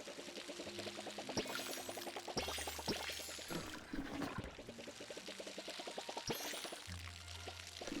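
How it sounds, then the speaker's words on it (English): Crops watered in the game Palia: a steady pouring and splashing with rapid droplet patter, soft and continuous, over faint tonal game music. "Let's water some of these"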